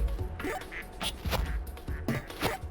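Ducks quack repeatedly inside the Project P.I.T.T. game, a busy run of nasal calls with some thumping clatter mixed in, steady and fairly close throughout.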